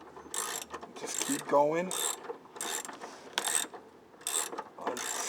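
Ratchet clicking and turning on the top bolt of a Jeep Cherokee XJ rear shock, repeated bursts of close mechanical ratcheting with someone speaking briefly between strokes.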